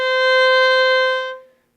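A single sustained bowed note, C natural played with the first finger on a string instrument's A string, rings steady and clear for over a second before fading out, alone with no talk.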